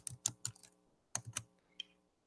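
Typing on a computer keyboard while entering a short-answer question in a quiz web app: two quick bursts of close, crisp keystrokes separated by a brief pause, with a single faint tap near the end and no talking.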